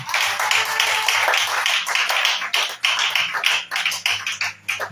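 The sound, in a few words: congregation clapping to acclaim Jesus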